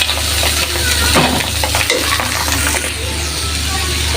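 Potato and snake gourd, seasoned with turmeric, chilli, coriander, cumin and salt, sizzle loudly in a frying pan while a utensil stirs and scrapes in irregular strokes, with no one speaking.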